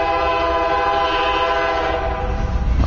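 A train rolls past on tracks right beside a backyard homestead, its horn blaring loud and steady with a sustained harmonic tone over a low rumble.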